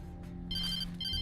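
A telephone rings in Alan Wake Remastered: a short, bright electronic ring over a low ambient hum, with two bursts about half a second apart.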